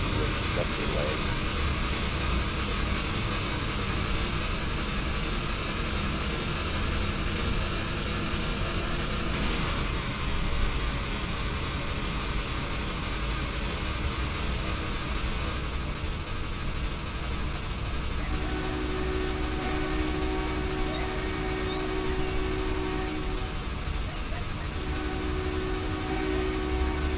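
A locomotive in the Trainz 2022 simulator runs at speed on a Pennsylvania line, with a steady, dense rumble of wheels and engine throughout and a sustained horn-like tone sounding in the later part.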